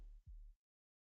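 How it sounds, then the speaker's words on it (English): Two deep, muffled thumps make up the heartbeat transition sound in the video game Ad Nauseum, arriving as a quick low double beat before silence. "I love the little heartbeat transition."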